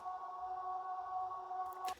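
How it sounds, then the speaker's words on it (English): A steady, sustained B minor tonal drone hums evenly with a soft ambient wash, cut off abruptly near the end by a brief higher burst. "Last final thing I will add is this background drone."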